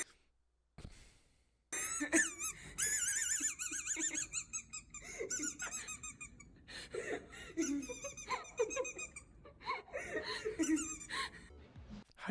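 A dog that has swallowed a squeaky dog toy lets out a run of high, wheezy squeaks with each breath, close and fairly loud, mixed with coughing and people laughing around it.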